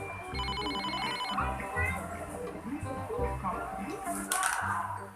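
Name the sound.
mobile phone ringing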